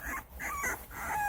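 Puppies in the countryside let out high, wavering yips and whines, several short cries in quick succession, close and fairly clear.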